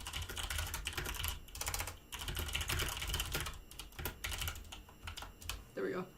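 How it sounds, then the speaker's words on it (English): Rapid, uneven clatter of typing on a computer keyboard, close and fairly loud, running in bursts with brief pauses for about six seconds, with a voice briefly heard near the end. "let me type maybe"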